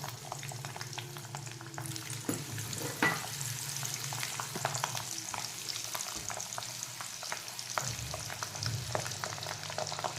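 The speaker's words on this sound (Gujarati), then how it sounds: "તેલ થઈ જાય ને એટલે આ લસણની બધી કળી અંદર એડ કરી દેવાની." Garlic cloves for a mango pickle fry in hot oil with a continuous crackling sizzle, close and lively, broken by occasional scraping stirs and clinks of a spoon against the pan.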